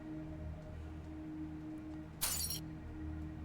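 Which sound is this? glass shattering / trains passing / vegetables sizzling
glass shattering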